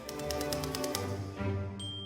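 Rapid, even typewriter keystrokes clatter close and steady for about a second, then give way to a carriage return and a bright ding.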